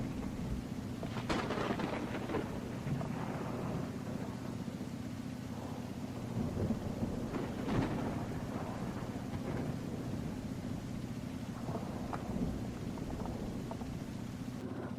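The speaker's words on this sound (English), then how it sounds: "Thunder Valley, it's mainly just crazy lightning and thunder, and this gets really fucking dark." Thunder and rain in the MX vs ATV Legends video game, a continuous rumbling wash of rain with repeated thunder cracks and rolls at moderate loudness and a low engine-like drone underneath, with no voices.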